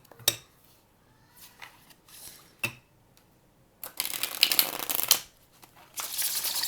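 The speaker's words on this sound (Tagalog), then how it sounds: "Balasahin natin to." Tarot cards are shuffled by hand: a few scattered taps and slides, then a dense, loud riffling burst, then a short pause before another round of shuffling starts.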